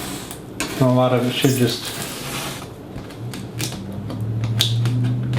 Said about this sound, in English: I'm just going to take my knife and run down the back of this bend just lightly